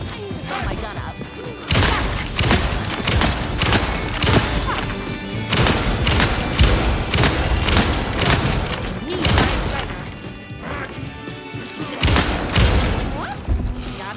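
Gunfire in the video game Alan Wake II: bursts of loud shots and heavy thuds come in clustered volleys with brief pauses between, close and punchy, under occasional talk.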